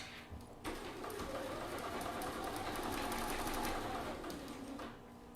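A sewing machine runs steadily along a curved seam, its close, continuous whirring rhythm holding for about five seconds before stopping.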